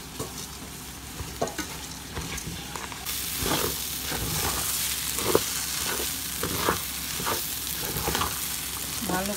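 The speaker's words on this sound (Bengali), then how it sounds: "ভালো করে চাল আর ডালগুলোকে তেলের ভিতরে আর মশলার ভিতরে ভুনা করে নিচ্ছি" Rice and lentils sizzle and fry in hot oil with spices for bhuna khichuri, a steady close hiss broken by repeated stirring scrapes. The sizzle grows louder partway through.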